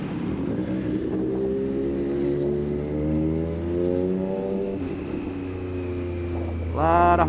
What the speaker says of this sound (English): A lot of Harleys out there.